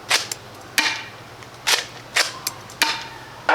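AGM Mastech shell-ejecting shotgun blaster toy firing six sharp plastic snaps in an uneven rhythm, some in quick pairs, each a short bright crack followed by a brief clatter, close and loud against a quiet room.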